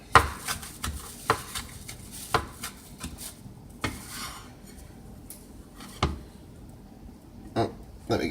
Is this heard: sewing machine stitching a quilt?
no